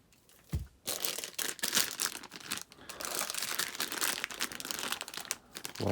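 Plastic bags of miniatures from a Waterdeep: Dungeon of the Mad Mage board game being handled, with loud continuous crinkling and rustling close by, one brief pause near the start and no talking.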